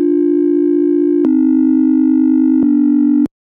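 A Serum synth bass patch with sine waves on both oscillators A and B plays as a steady, pure low tone, stepping slightly in pitch twice across three sustained notes before cutting off abruptly.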